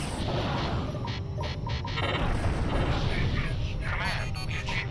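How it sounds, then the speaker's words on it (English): A warhead detonating in the space combat game Freespace 2, heard as a sustained, dense roar of rumbling blasts and crackling debris that runs loud and steady throughout the stretch. "we achieved a clean detonation of the Nissan warhead"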